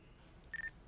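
A cellphone, just repaired and switched on, gives a short burst of three quick electronic beeps, faint against quiet room noise.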